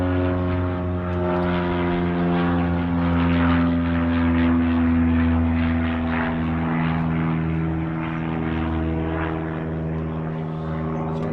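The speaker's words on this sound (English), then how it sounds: "Waiting for the plane to get out of here" A propeller airplane drones loudly and steadily overhead, its engine holding an even, sustained roar through the whole stretch with no talking.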